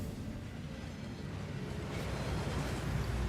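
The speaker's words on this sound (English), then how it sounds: "That waterfall washes away all enchantments." Rushing water from the Thief's Downfall waterfall inside the Gringotts vaults in Hogwarts Legacy, a steady dense roar of falling water that swells slightly louder toward the end, with no voices over it.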